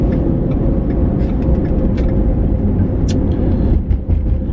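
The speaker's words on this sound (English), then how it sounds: "This is what I'm talking about right here with this traffic, okay?" Steady road traffic rumbles through town, cars and buses idling and rolling past at close range with a continuous low drone and occasional brief hiss of air brakes.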